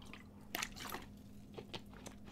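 Someone takes a sip of water from a glass or bottle, with a few soft wet sips and swallows over a faint steady hum, close and quiet, no talking.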